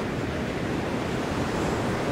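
Large ocean surf, waves more than double overhead, roars as a dense, continuous wash of noise with wind rumble, loud and unbroken.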